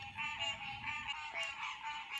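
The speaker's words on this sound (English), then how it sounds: "the frogs are out singing away for us" Frogs croak and trill by the water in Florida, a dense, continuous chorus at a soft, even level with no voices.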